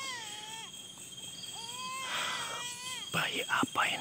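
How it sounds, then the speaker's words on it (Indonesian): Thin, wavering cries like an infant's come in a few short, faint bursts somewhere outdoors along a forked path. Quiet whispering voices and breathy noise join toward the end. "Kok ada suara bayi?"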